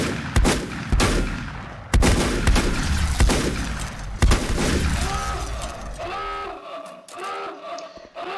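A shotgun fires in the volcano-digging game Volcanoids, several loud, sharp blasts spaced about a second apart, followed by ringing, chiming tones as the shooting stops.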